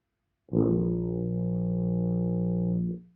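A single low brass note, a tuba's deep B flat, is held steadily for about two and a half seconds, played alone and close, then stops.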